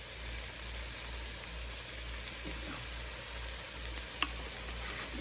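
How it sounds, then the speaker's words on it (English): Beef frying in oil in a Ninja Speedi, a steady close sizzle with faint crackles and a low appliance hum beneath. "I want it to fry up a little bit more"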